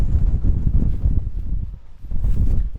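Strong wind buffets a tent while camping in severe weather, producing heavy low rumbling gusts and flapping against the fabric, loud and close, with no talking.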